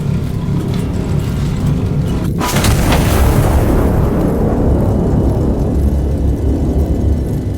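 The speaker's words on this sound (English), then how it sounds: "these explosions don't bother him not one little bit" Double-barreled artillery firing: one huge, close boom that rolls out into a long, loud, decaying rumble against steady heavy background noise.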